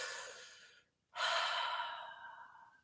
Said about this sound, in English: breathe deep and breathe it out with your breath